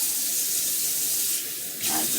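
Hot tap water runs steadily from a faucet over hands being rinsed clean, a continuous close hiss with a brief dip in flow near the end.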